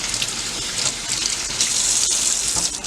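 Tap water runs steadily over Roma tomatoes in a sink, a continuous close splashing gush with no talk.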